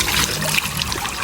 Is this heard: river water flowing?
yes